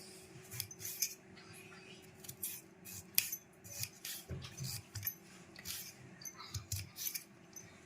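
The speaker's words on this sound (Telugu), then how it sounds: "తర్వాత ఆలుగడ్డ కట్ చేస్తున్నాను" A knife slices potatoes for a homemade kids' fry, giving repeated crisp cutting strokes in an irregular rhythm, near and fairly quiet, with no voices.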